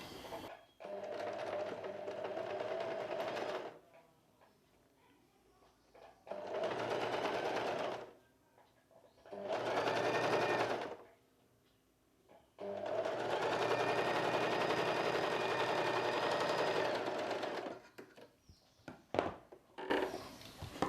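A sewing machine stitches a belt piece onto a blouse in several long rapid runs of rattling needle strokes, loud and close, separated by quiet pauses for repositioning the fabric.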